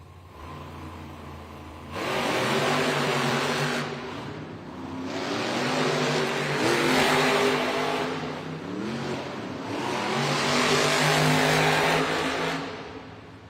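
Monster trucks Terminal Velocity and JCB Digatron race in an arena, engines roaring loud and close after a quieter opening, rising and falling in waves of revving as the trucks power around the track.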